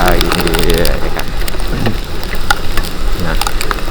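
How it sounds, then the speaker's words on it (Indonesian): Heavy rain drums and spatters steadily around a moving motorcycle, with dense crackling droplets and low rumbling wind and road noise throughout, loud and close, while someone talks over it. "lu lihat aja tuh hujan ya kan"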